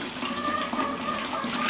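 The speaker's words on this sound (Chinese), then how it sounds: "你锅里加水" Water from a tap pours steadily into a large cooking pot for a pot of boiled vegetable stalks, a continuous close gushing fill that slowly rises in level, with no one speaking.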